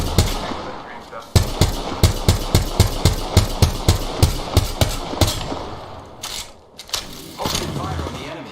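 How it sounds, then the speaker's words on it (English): Gunfire in the video game Apex Legends: rapid bursts of loud automatic shots in a rhythmic string, then scattered single shots and a final burst. "Open fire on the enemy."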